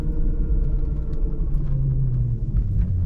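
A Suzuki EV rolling up a driveway after off-roading, heard as a steady low rumble of tires and motion, close and continuous with no voices.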